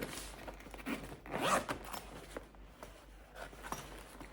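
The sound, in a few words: zipper of a portable bag being opened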